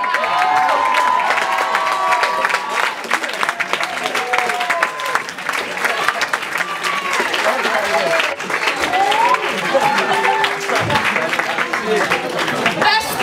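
An audience at a bad-song contest applauds the winners, a loud, dense, sustained wash of clapping with some cheering, while voices carry over the crowd.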